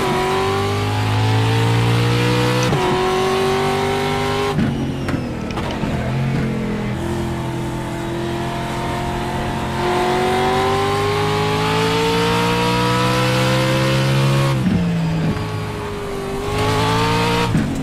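Sim race car engine in iRacing, a rookie-class practice session, revving loud and steady through the gears with sharp drops at shifts and rising pitch between them, continuous throughout with no talk.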